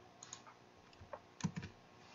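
A few faint, quick clicks from a computer mouse, close by in a quiet room, with a small cluster of taps near the middle.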